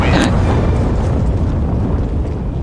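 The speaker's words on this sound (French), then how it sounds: "il va se faire avoir par l'explosion de la bombe." Bomb explosion in Counter-Strike: Global Offensive, a loud burst at the start that leaves a long rumbling tail, heavy and close, with no talk.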